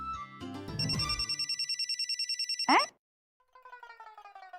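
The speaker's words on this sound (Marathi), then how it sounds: "अगं मयू, घरातल्या घरात कसला फोन करतेयस" An electronic telephone ringtone pulses quickly and evenly for about two seconds, then breaks off with a sweeping tone. A brief silence follows, and then a second ringing pattern starts, loud and close.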